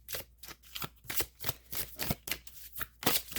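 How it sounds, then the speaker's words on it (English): Romance angel oracle cards being shuffled by hand, a steady run of crisp riffling bursts repeating roughly every third of a second, close and quiet, with no talking. "let's pull some romance angel cards here"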